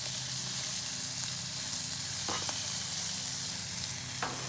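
Potatoes frying on a Blackstone griddle, a steady close sizzle running the whole time, with a couple of brief scraping or stirring sounds over the hiss.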